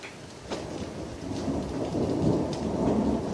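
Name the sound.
thunder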